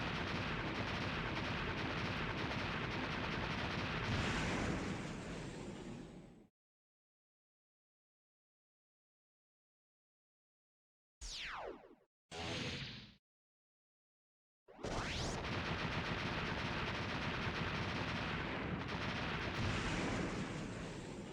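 Explosions in the video game Mega Man X6: loud, dense bursts of blast noise fill the opening seconds, cut off by silence, then a couple of short sweeping bursts return into another long stretch of continuous explosive roar.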